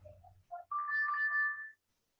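A live chat visitor notification alert on an eCommerce website rings out once as a clear, close electronic chime, a short two-note lead-in followed by a sustained tone lasting about a second before cutting to silence.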